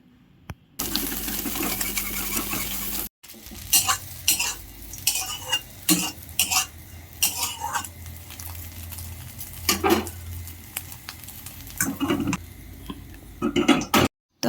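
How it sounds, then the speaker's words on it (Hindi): Soybeans frying in hot oil in a kadai for a veg soya biryani, with steady sizzling and repeated metallic clinks and scrapes of a stirring spoon against the pan, close and fairly loud throughout. "कड़े रे तेल गरम हो गला पर दिहला सोयाबीन आउ सोयाबीन के भल से टिके भाजमा।"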